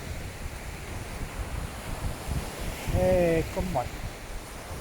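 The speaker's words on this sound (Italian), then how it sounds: "siamo qui davanti al mare" Sea waves washing onto a Sardinian shore near sunset, a steady broadband surf roar with wind, while a person speaks briefly over it.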